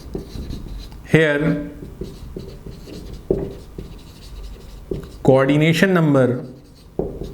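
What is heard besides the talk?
writing on a board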